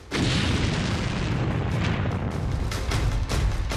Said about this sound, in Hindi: इसके बाद ये टैंक जलता रहा और फिर हुआ ऐसा धमाका